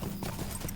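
A goat mount's hooves clop in a quick, steady rhythm as it gallops at night in the video game Lord of the Rings Online, brief and moderately loud with no talking.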